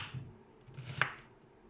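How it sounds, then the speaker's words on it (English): A knife rough-chops firm onions for homemade fajitas, with a single sharp chop landing on the cutting board amid soft, faint handling noise and quiet kitchen background. "and again a rough chop"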